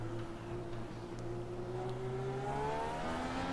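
An IndyCar engine in iRacing on the Motegi oval, a steady tonal drone with rising pitch as the car accelerates, fairly faint, no voices.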